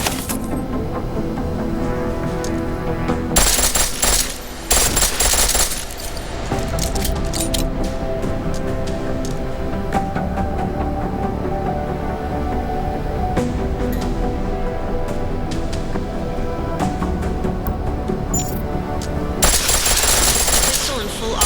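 Pistol firing in full auto in the video game Deus Ex: Mankind Divided, rapid bursts of shots loud and close, with dense gunfire in several stretches among game sounds and some talk.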